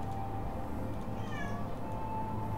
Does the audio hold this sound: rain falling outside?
no